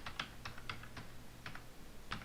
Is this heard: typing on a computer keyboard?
yes